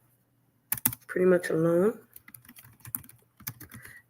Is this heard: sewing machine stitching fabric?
no